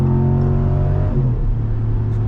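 A 2022 Ram 1500 Sport GT's engine revs loudly from inside the cabin, a steady deep rumble with a brief swell in pitch partway through, alone with no talk.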